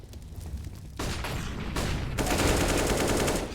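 Sustained automatic gunfire from a held-down trigger in a CS:GO match at the BLAST.tv Paris Major 2023, with rapid bursts that grow denser and louder, dominating the mix with no voices over it.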